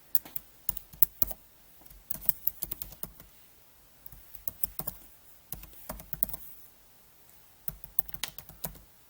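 A computer keyboard clicks as a file geodatabase name is typed in ArcMap 10.6, in quick bursts of keystrokes separated by brief pauses, close and clear with no voices.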